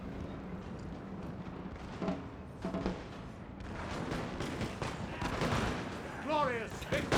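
Musket volleys crackle in Napoleon: Total War, scattered pops and heavier bursts of massed fire over a dense battlefield din, with distant shouts and a few sharp, close reports toward the end.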